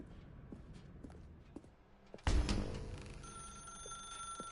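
A telephone rings in The Stanley Parable, a sudden loud burst of ringing over quiet footsteps and ambience, followed by a sustained electronic tone that lingers to the end.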